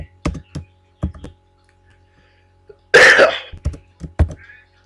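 Keys clatter on a computer keyboard while working in an Excel spreadsheet, a few sharp separate taps, then a short breathy noise like a throat clearing, followed by more quick key presses.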